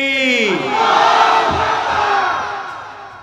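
A large crowd answering a takbir call, a voice's call followed by a massive, loud unified shout swelling and sustained for a few seconds before fading.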